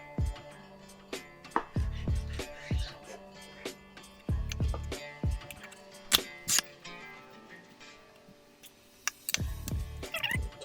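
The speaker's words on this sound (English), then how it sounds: "You can go ahead and just grab your knife and run it through there." A knife cuts cartilage from raw pork ribs, giving short crunchy bursts and scattered sharp clicks in irregular clusters, fairly close and moderately quiet.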